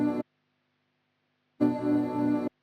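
A stock Serum synth preset plays a plain, one-dimensional sustained tone on a B note, heard as a brief stab and then a longer held note about a second long, clean and alone.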